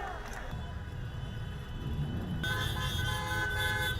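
Car horns toot repeatedly over steady road and crowd noise at a drive-in demonstration of cars organized by Vox, the honking growing denser and louder partway through.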